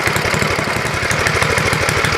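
An old, rusty Ariens ST824 snowblower engine idles close by, a loud, steady rhythmic chugging with a rough mechanical clatter throughout.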